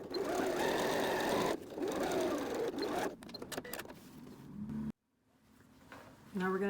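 A domestic sewing machine stitches steadily across a library bag's pressed lining, its motor whirring loud and close for several seconds, then pausing, with brief rattling and a faint voice in between.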